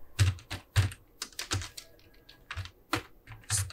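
Typing C code on a computer keyboard produces a close, quiet run of irregular key clicks with short pauses between bursts, and no talking.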